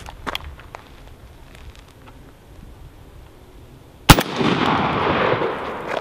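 A rifle fitted with a Griffin Armament blast shield fires one sharp, loud shot, followed by a long roaring wash of noise, with faint distant pops before it.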